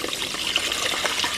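Water pours steadily into a pot of brown Sona Masuri rice, a close, continuous trickling and splashing with no voices.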